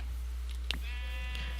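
A Minecraft sheep gives one short nasal bleat over a steady low background hum.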